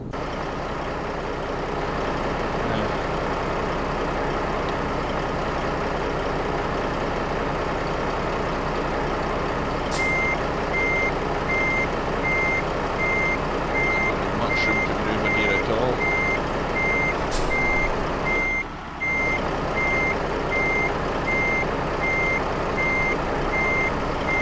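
Steady, evenly spaced reversing beeps from a heavy truck in Euro Truck Simulator 2 at a midnight rest stop, sounding over a constant low engine idle and road rumble for the whole stretch.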